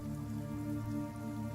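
Steady rain falls in the fantasy video game Numenera, a dense, even patter that holds through the whole moment with no voices over it.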